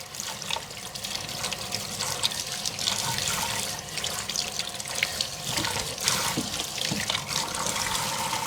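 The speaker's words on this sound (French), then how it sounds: "Je vais juste mettre un petit jet d'eau." A small jet of water from a tap rinses a freshly cleaned screw, making a steady splashing hiss with light trickling and dripping that continues without pause.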